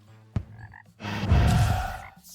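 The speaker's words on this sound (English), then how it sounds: "Whoa, a mystic frog." A mystic frog in the Terraria video game gives a short click followed by a loud, rough, drawn-out croak, close and alone.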